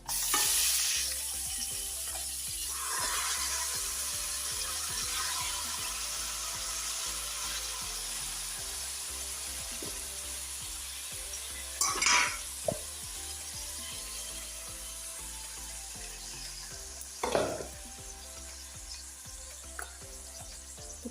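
Meat goes into a pan with fried onions and fried rice, producing a continuous close sizzle and frying hiss, broken by a few louder stirring and scraping clatters, with no talking.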